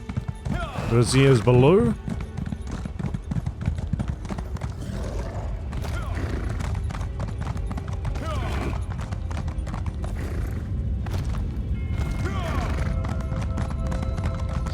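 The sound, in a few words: horse hooves while riding, from video game Elder Scrolls Online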